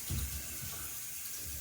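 Tap water runs steadily into a sink during a home inspection leak check, a continuous close wash of flow with a brief louder splash at the start.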